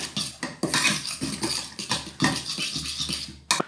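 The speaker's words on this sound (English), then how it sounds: "just whiz that together with a fork" A fork whisking potato mash with cream in a bowl, rapid scraping and clattering strokes in quick bursts, close and fairly loud, no voices.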